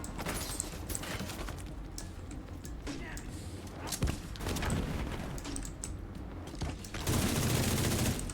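Gunfire in the video game The Division 2, with dense bursts of shots running throughout, heavier toward the end, over a busy mix of game sounds.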